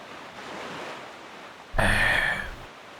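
Ocean waves while sailing a boat across the sea in the video game The Legend of Zelda: The Wind Waker, a soft whooshing wash that swells into a louder surge of surf for about a second, with no talk.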